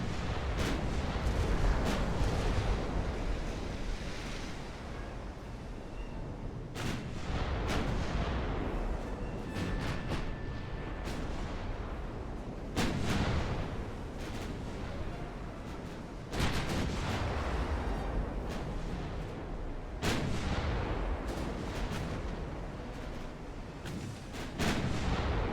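Naval guns firing shells in the Ultimate Admiral: Dreadnoughts battleship game, a steady rumbling barrage broken by sharp heavy booms that recur every few seconds, loud and dense throughout with no talk.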